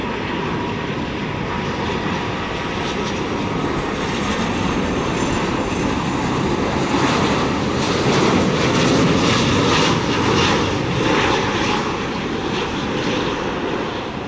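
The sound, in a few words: Vietjet Air Airbus A330-300 landing on runway 25R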